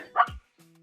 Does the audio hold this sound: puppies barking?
yes